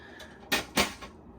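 A refrigeration cabinet door on a Beneteau Oceanis 40.1 sailboat shuts with two quick soft knocks and a faint third tap, close by and quiet.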